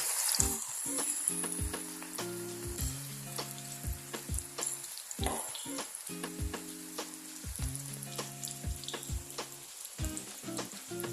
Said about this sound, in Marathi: तेल कडकडीत गरम करून घ्यायचं तेल तापलेलं आहे पण हे तेलामध्ये असं हलके हलके सोडा